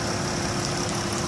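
A 3.6-liter V6 in a 2018 Dodge Caravan SXT wheelchair-accessible minivan idles under the open hood, a steady, even low hum with faint mechanical whir throughout, heard close up with no talking.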